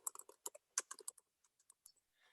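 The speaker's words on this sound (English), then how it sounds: "And as I'm typing it," Quick, uneven bursts of keystrokes on a computer keyboard, close and fairly quiet, with short pauses between clusters of clicks and no talking.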